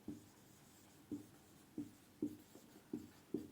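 Pen strokes on paper while a definition is handwritten, a series of short scratchy marks repeating about every half second to second, close and fairly quiet with no talk.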